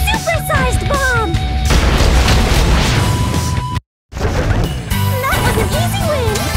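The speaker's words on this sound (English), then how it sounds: "It's a special supersized bomb!" A supersized bomb explodes in the Atelier Ayesha video game, with a loud crashing blast and debris over chirpy game sound effects. Brief silence follows before battle sounds resume.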